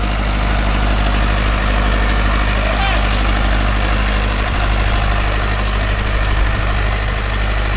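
A diesel tractor ploughing deep with its revs dropping under load makes a loud, continuous low engine drone with steady vibration that stays constant throughout, with no voices heard.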